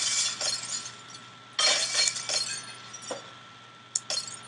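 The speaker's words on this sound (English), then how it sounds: "There goes the glass." Glass shatters in the physics game Happy Wheels: three bright, crashing bursts of breaking glass with clinking shards trailing off, the last a short sharp smash near the end, over a steady low hum.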